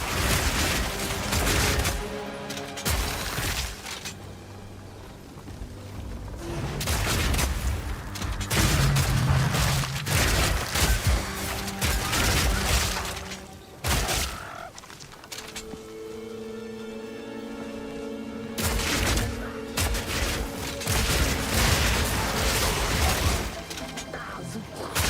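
Bombard crossbow firing in Path of Exile 2, a dense run of loud booming shots and blasts with crashing impacts and mechanical clatter, with short pauses, under game effects throughout.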